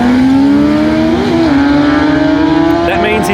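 Drag racing motorcycles launch together at a Perth Motorplex bike night, a loud sustained engine roar with a steady rising tone, heard up close throughout.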